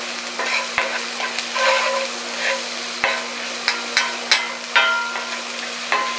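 Mushrooms sizzle in a hot pan while being stirred, a close steady frying hiss broken by repeated spoon scrapes and taps at irregular intervals.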